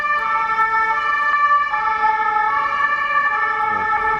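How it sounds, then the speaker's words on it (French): Fire engine siren wailing steadily through a Geneva street as the truck passes, loud and continuous with a slight pitch shift near the end, traffic rumble underneath. "Ah non, c'est les pompiers."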